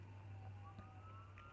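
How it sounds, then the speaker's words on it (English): Faint ambulance siren wailing in the distance, a thin rising and falling tone over a steady low hum of background noise, with no talking. "That's probably the ambulance."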